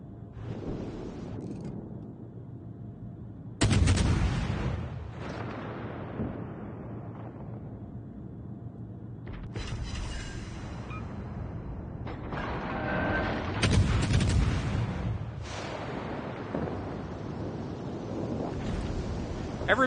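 Naval cannon fire from World of Warships Legends arrives as several heavy booming blasts with long rumbling tails, spaced a few seconds apart over a steady sea and engine bed.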